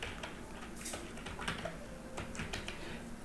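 A project name being typed on a computer keyboard, quick faint key clicks in short irregular bursts over quiet room noise.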